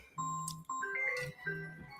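A phone rings with an incoming call, playing a short electronic melody of bright, clear tones in quick phrases, fairly close and heard alone.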